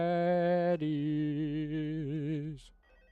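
Electronic phone ring in the horror video game Five Nights at Freddy's, a steady, loud harmonic tone that continues without a break, wavers slightly near the end, then cuts off sharply into quiet.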